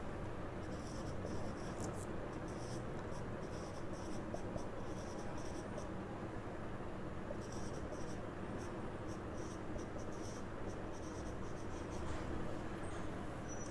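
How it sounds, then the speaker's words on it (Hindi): Intermittent scratchy strokes of writing on a classroom board during a lecture come in quick runs, with fairly steady room hiss underneath and no talking. "इसका डी पार्ट मैं इधर लिख दे रहा हूँ"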